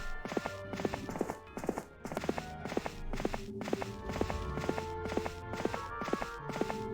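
Horse hooves clip-clop in a steady walking rhythm during a casual ride through underground tunnels in Heroes of Might and Magic III: Horn of the Abyss, the hoofbeats crisp, close and continuous for several seconds.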